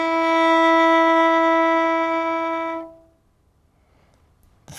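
One long bowed violin note, an E fingered with the first finger on the D string, rings steadily for nearly three seconds and then stops, leaving a quiet room; no speech.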